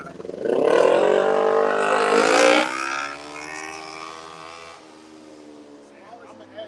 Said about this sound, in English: Smallest engine in Richmond is the loudest thing.